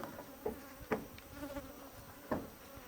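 Bees buzz around delivered hive colonies with gentle queens on a small farm in Pará: faint, brief buzzes from individual insects flying past, a few passes rising out of a soft outdoor background, with no voices.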